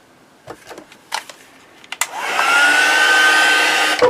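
Hair dryer blowing over wet paint on a mixed-media autumn leaves piece: a few soft handling taps, then the dryer starts up loud and close and runs as a steady rushing whir before a clunk at the end.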